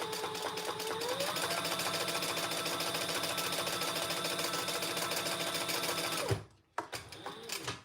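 Sewing machine stitching fabric around a D-ring, running in a steady close whir for several seconds before stopping abruptly, followed by brief handling noise.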